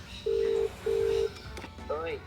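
Two long, even telephone dialing tones sound in succession, followed by a short warbling tone, while a man works on rebuilding a Warn 8274 high-mount winch on a GQ Patrol.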